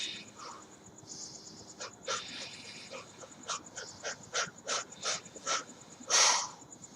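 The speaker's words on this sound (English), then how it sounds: "short, shallow breaths" Quick, shallow breaths are forced out in a rapid series of short, breathy puffs during a self-defense breathing exercise, growing louder and closer toward the end over a steady hiss of background noise.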